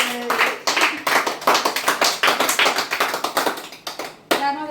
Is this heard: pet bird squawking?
no